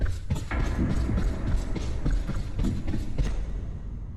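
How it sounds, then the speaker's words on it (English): Footsteps in the Roblox game Cheese Escape make heavy, regular thuds over a rumbling, noisy background. The steps are close and fairly loud, and no one speaks. "I hear footsteps again."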